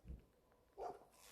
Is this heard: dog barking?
yes